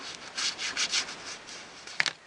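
Tattered paper edge rubbed back and forth on a Versamark ink pad, a close, soft scratchy rubbing in several short strokes followed by a brief tap.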